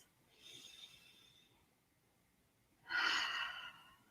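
Two soft inhalations during a guided standing exercise before tai chi practice, the first faint and drawn out, the second louder and closer, with quiet room tone between.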